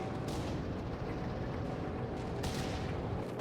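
StuG assault gun firing canister rounds in Company of Heroes 3: dense, steady battle rumble with repeated low booms and crackling bursts, no voices.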